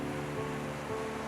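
Ocean waves on the north Java coast at Indramayu beside a coal power plant: a continuous broad wash of surf and wind noise at steady loudness, with no distinct breaks and no voices.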